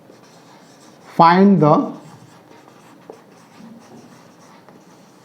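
Pen scratching steadily while writing out a circle area problem with a 14 cm diameter, a faint, continuous scraping that runs beneath a brief burst of speech and carries on afterward.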